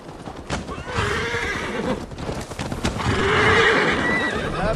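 A horse in Assassin's Creed Valhalla whinnies loudly up close, with clip-clop hooves and snorting breaths around it, the neighing swelling again near the end.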